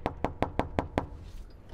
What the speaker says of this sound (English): we'll knock on the door